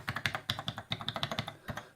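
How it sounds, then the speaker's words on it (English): Close, quick typing on the keyboard of an Oric Atmos home computer: about a dozen rapid, slightly uneven clacky keystrokes in two seconds, with no speech. "I actually really like this keyboard"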